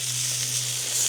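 Bacon sizzles and fries in oil in a pan over a lakeside campfire in Australia, a steady close crackling hiss running unbroken with no talk.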